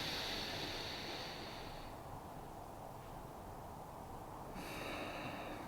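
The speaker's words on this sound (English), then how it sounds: "breathe with your mouth closed and breathe that energy back down" A slow, steady exhale through the nose with the mouth closed during a calm breathing exercise, a long soft airy rush that holds evenly, then eases and swells again, close and unbroken by speech.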